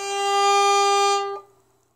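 Violin E string sounding out of tune after the instrument was bumped against a wall, one sustained bowed note with bright overtones, close and loud, then stopping and ringing briefly away.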